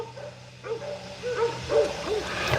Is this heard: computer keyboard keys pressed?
no